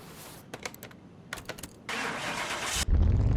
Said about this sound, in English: Let's try starting truck number 2.